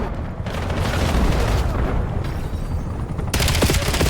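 Rapid, sustained gunfire in a shooter video game, loud bursts of shots blending into dense continuous fire with booming impacts, with no talking over it.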